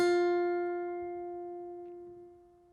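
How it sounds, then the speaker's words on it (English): A single guitar note plucked on the B string at the 6th fret, one clean ringing pluck that slowly fades, played alone and close. "Then you're going to place your pinky on the 6th fret of the B string and pluck the B string one more time."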